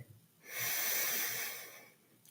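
A single deep inhalation and exhalation during a guided Ave Sa breathing exercise, a soft airy rush that swells and fades over about two seconds, close and quiet, with no talking.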